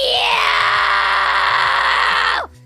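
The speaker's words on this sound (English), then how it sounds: "I think I can scream right now" A sustained, strained scream from a single voice, attempting a fry scream, held loud and steady for over two seconds before cutting off abruptly into near silence.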